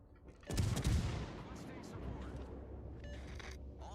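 Naval guns in the World of Warships Legends battle game fire a loud booming salvo that rolls into a long rumbling decay, with faint later reports.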